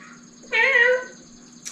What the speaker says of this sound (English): That cat needs to be our pod cat.